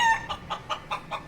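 Rhythmic clucking from a cochin chicken in a video game, five or six evenly spaced clucks in quick succession, close and clear with no talk over them.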